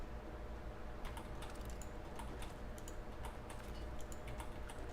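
Rapid, fairly quiet tapping on a computer keyboard during a Starfield gaming session, irregular clusters of key clicks over a low background hum, no talking.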